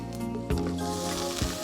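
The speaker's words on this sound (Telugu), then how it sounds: "అసలు ఇలా నూనెలో ఆ అల్లము వెల్లుల్లి వేగుతుంటే వచ్చే సువాసన ఉంటుంది" Ginger and garlic fry in hot oil with a pinch of turmeric, giving a steady close sizzle with a couple of brief louder bursts over a low hum.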